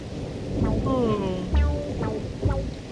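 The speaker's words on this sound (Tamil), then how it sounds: "மழை பெய்யுது" Cartoon rain and thunder: a dense wash of rainfall with low rumbling booms, while a few voices speak and squeal over it at close range.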